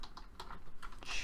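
Brief bursts of typing on a computer keyboard, a few quiet, irregular key clicks close by, with no voices.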